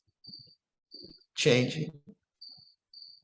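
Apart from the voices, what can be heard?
crickets chirping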